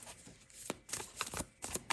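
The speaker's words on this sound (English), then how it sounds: "This is really awkward to shuffle with these like magnificent gloves." Tarot cards are shuffled by gloved hands in a series of close, crisp riffling bursts and taps, uneven in rhythm with short pauses between them.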